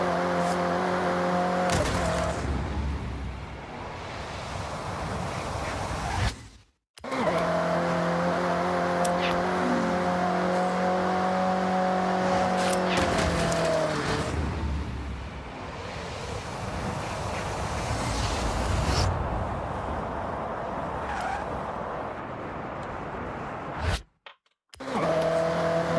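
Ferrari race car in the Forza Horizon driving game, engine droning loud and steady with harmonic whine, rising and falling through gear changes, cutting out briefly twice, with wind rush throughout.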